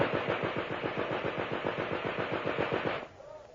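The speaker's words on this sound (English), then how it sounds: "Machine gun!" Machine gun fire bursts out close and loud in a rapid, even stream of about twenty shots over three seconds, then cuts off, leaving a faint echoing tail.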